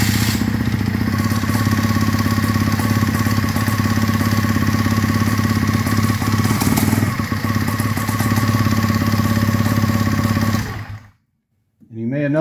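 The engine of an Aerolite 103 ultralight aircraft runs at a steady, loud idle with a clattering, motorcycle-like drone for about eleven seconds, then cuts off abruptly into near silence.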